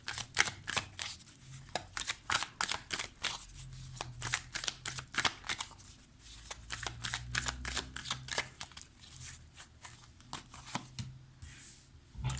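Oracle cards being shuffled in quick, crisp bursts of riffling and slapping, close and fairly loud, with short pauses between runs and a faint low murmur underneath.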